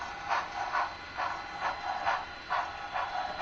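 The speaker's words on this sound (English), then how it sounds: "We got the train going by." A model train runs past with a soft, evenly spaced series of rhythmic chuffing clicks, about two per second, heard close under a low background hiss.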